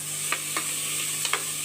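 A spoon scrapes and stirs masala with tomatoes and onion pieces in a pan, four short clinks over a soft steady frying sizzle.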